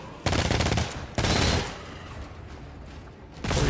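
Loud automatic gunfire in the video game GTFO, two short close bursts followed by a decaying echo tail and a third burst starting at the end.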